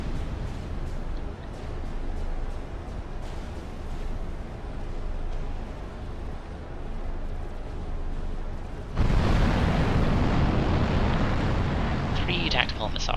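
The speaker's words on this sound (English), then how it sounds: "Let's get some missiles away." Tactical missiles launching and exploding in the strategy game Supreme Commander: a dense rumbling wash of battle noise that erupts into a much louder, broadband blast partway through and holds at that level to the end.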